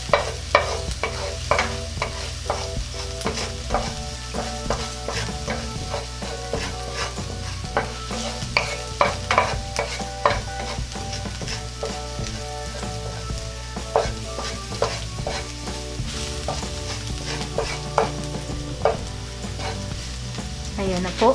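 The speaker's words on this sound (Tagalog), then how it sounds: "hahaluin lang po natin para hindi siya dumikit dito sa ating kawali" Minced garlic sizzles steadily in a hot frying pan while a utensil stirs it, scraping and tapping against the pan in an irregular rhythm over a continuous frying hiss, with no talking.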